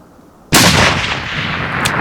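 A single loud rifle shot cracks out during an elk hunt in Oregon, its boom rolling and echoing across open country for well over a second.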